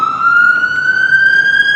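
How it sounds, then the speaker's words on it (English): An ambulance siren sounds steadily and loudly throughout, one sustained tone slowly rising in pitch as it passes, with faint road rumble beneath and no talking. "The ambulance passing by."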